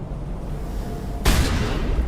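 A single heavy sniper rifle shot from the video game Mass Effect cracks loudly about halfway through, followed by a booming, noisy tail over a rumbling background, with no talking.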